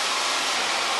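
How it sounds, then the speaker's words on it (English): A hair dryer blows steadily on someone's hair, a close, even whooshing hiss that runs the whole time with no voices over it. "Oh my gosh, I just blow dried my hair."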